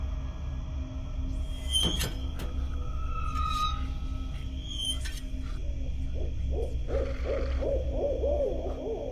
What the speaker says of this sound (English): Goddamn owl.